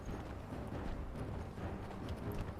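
A horse's hooves beat in a quick, muffled clip-clop as it runs through a snowy region in the video game Conan Exiles, faint and steady under a dense rumbling background.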